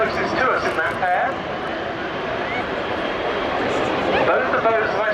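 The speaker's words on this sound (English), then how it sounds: "MS760 Paris, accompanied by the Fouga CM175 Zephyr." MS760 Paris and Fouga CM175 Zephyr historic French naval jets passing at Yeovilton Air Day, a steady loud broadband engine roar with a shifting whine that holds throughout, under crowd chatter and commentary.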